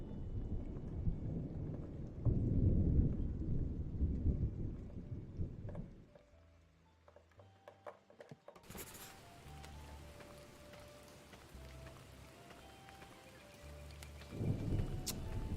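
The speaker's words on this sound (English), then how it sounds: "but it's raining" Thunder rumbles through a rainstorm in Spirit of the Tides, a farming video game, with deep rolling booms at the start and end over a constant patter of rain and a quieter stretch in between.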